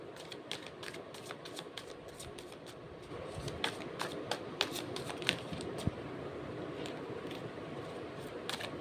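Tarot cards shuffled close by in a quiet room, soft papery riffles and sharp little snaps in an irregular run, growing slightly busier partway through, with no talking.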